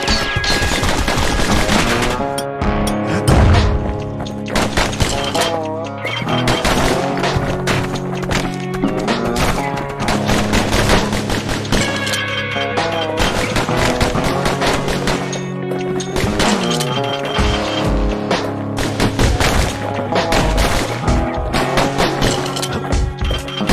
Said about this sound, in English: They're shooting.